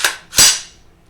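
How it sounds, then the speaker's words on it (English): A handgun fires a single loud, sharp bang as the trigger is pulled, preceded by a faint click and followed by a quick decaying tail. The shot is heard alone, with no talk. "when I pull this trigger, the gun goes bang"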